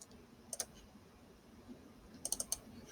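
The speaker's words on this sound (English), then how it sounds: "to just draw a single line, you double click" Computer mouse double-clicking while drawing lines in a program: one crisp quick pair of clicks, then a later burst of several rapid clicks, close and alone over quiet room hiss.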